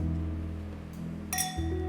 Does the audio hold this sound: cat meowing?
no